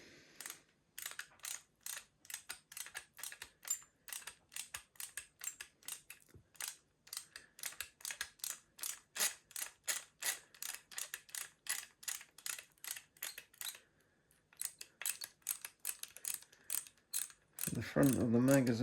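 Tap threading a hole in a metal magazine part for an FMA rifle: a long run of close, rhythmic ratcheting clicks in quick bursts, a brief pause near the end, then a louder rustle.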